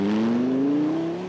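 Dodge Viper rally car racing through a Targa Tasmania stage, its engine note climbing steadily in one loud, sustained pass with a strong rising drone.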